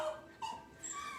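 Puppies, part of a group of pups at home, giving a few soft, whiny whimpers and wails in short rising tones, faint and close by with no talk over them.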